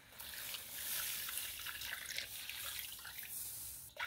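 Water pours steadily into a cooking pot of spicy sour fish stew, a soft continuous splashing trickle that runs for several seconds before stopping.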